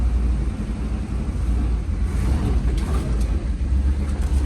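A 1973 Chevrolet K5 Blazer, long unused, idles and crawls along in granny low gear, its engine giving a steady, loud, low rumble with no voices over it.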